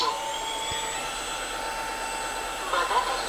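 An Ultenic AC1 Elite wet-dry vacuum cleaner switches on and settles into a steady high whine with a constant airflow hiss, briefly swelling near the end, with a voice talking faintly underneath.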